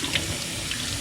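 Tap water runs steadily over two foam filter pads from a Fluval FX6 canister filter as they are rinsed at a sink, a close, even hiss and splash with no talking.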